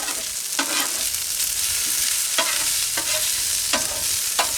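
Sausage and onions sizzle steadily in a pan at an outdoor forest campsite, a dense crackling hiss broken by several sharp scrapes and taps of a utensil stirring.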